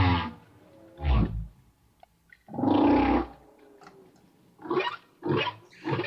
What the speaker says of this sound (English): That's still the whale at the regular speed